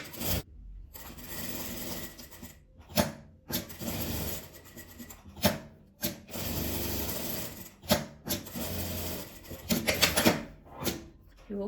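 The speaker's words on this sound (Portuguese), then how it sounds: "Vou passar um pesponto em volta de todas elas, bem na beiradinha, só mesmo para firmar o tecido" A sewing machine topstitches close to the edge around fabric butterflies, running in close bursts of rapid stitching with short pauses between seams, no talking.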